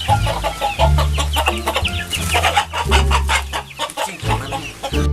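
A rooster named Blacky clucks repeatedly and close by, with short rhythmic calls over a continuous low hum, and no speech is heard.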